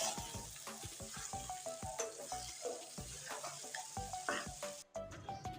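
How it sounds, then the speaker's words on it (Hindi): Okra and spices fry in a pan with a continuous sizzle. Frequent clinks and scrapes of stirring sound up close and fairly faint, and there is a short quiet gap near the end. "2 से 3 मिनट इन मसालों को भूनकर जो भिंडियाँ हमने काट के रखी थी इसमें शामिल कर दें।"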